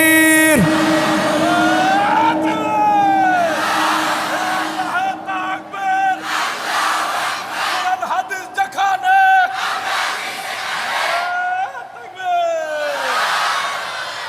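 A large crowd at a religious gathering shouts takbir in unison, loud, sustained and reverberant, with several rising waves of collective voices.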